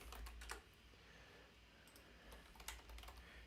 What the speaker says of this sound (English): Gray hair, typing that into Google Translate and typing for Persian